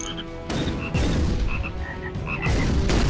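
Cartoonish frog croaks from the frogs weapon in the video game ShellShock Live, a dense, loud run of overlapping croaks and chirps over rumbling booms.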